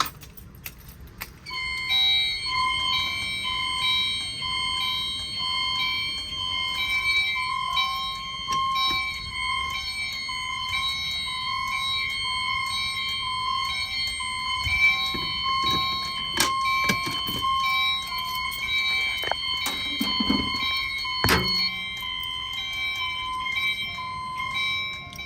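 Fire alarm chime strobes in a building, set off by a Simplex pull station during a system test, ring out as steady, layered electronic chime tones that sustain throughout, with occasional clicks and handling noise beneath.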